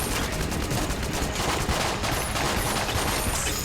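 Continuous rapid gunfire from the Ammo Conda boss in Enter the Gungeon fills the clip, dense overlapping burst shots with crackling mechanical shots layered throughout, loud and steady.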